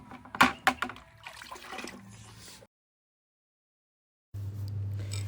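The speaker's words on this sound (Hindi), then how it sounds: "और यहाँ हैंडपम्प चलाते हुए शिमला की गोरी क्षेत्र में हैंडपम्प चलाते हुए" A hand pump worked in a village in the Shimla area: a few sharp knocks and clanks from the pump handle with splashing water, then a sudden silence and a steady low hum.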